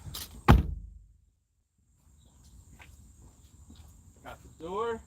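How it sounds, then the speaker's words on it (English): A car door thuds shut once, loud and close, followed by a quiet pause, then soft rustling, shuffling and a brief voice near the end. "Got the door."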